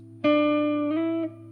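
A single electric guitar note rings out, then bends upward two frets in pitch and holds, fading out after about a second, clean and close.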